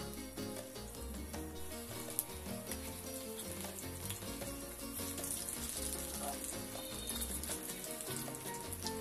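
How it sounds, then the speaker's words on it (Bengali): Small fenugreek-leaf fritters fry in hot oil in a kadai over low heat, a steady close sizzle with crackling bubbles throughout and no talking. "কড়াইতে তেল গরম করে চামচ দিয়ে ছোট ছোট করে বড়া ভেজে নেব"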